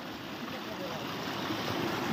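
The Tel river rushes steadily as a broad, continuous wash of flowing water, loud and close, with no breaks over the short stretch.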